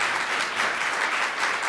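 Audience applause after a presentation, a dense, even clatter of many hands clapping for under two seconds with no pause.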